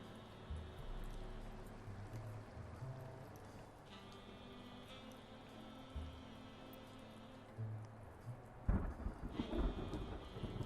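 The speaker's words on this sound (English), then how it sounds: "That thunder sketched me right out." A thunderstorm in the Blacksad game, with low rumbling under a steady hiss of rain and a sudden loud crack of thunder near the end.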